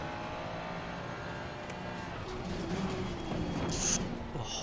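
A Porsche race car in Assetto Corsa Competizione at Watkins Glen, engine droning steadily then rising in revs, with faint tire and shift noises layered over a constant background hum.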